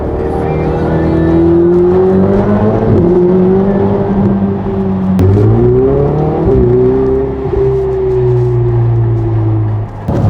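A car drives on the road toward a petrol station with a steady engine hum that rises and falls through gear changes, loud and close from inside the cabin.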